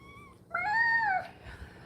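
A small cat gives one clear, drawn-out meow at close range, rising and falling over about a second, with quiet room sound before and after.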